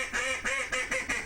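A duck call being blown by hand, giving four quick nasal quacks in an even rhythm, close and fairly soft, alone with no talk.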